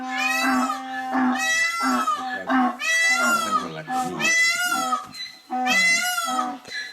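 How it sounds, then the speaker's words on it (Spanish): Donkeys bray repeatedly and loudly in a rural setting, long harmonic cries with a wheezing, rising-and-falling pattern, several calls in succession with short gaps between them. "Se están comunicando los burros."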